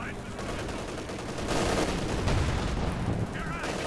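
In Company of Heroes 2, anti-tank guns fire through dense, continuous battle noise. Booming reports and rattling gunfire blend into a loud, crowded din while a commentator keeps talking over it.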